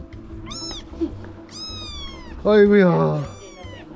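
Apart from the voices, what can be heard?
kittens meowing at a cat farm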